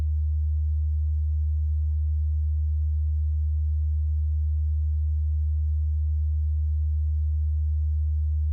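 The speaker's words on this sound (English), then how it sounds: "then you first record 76 Hertz using this tone generator" A tone generator plays a steady 76 Hz sine tone, a deep, unbroken hum held at constant loudness throughout, alone with no other sounds.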